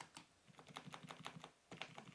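Keys on a Havit HV-KB380L LED backlit gaming keyboard clatter in quick bursts of clicks, some held and repeated, close and fairly quiet, with no talking.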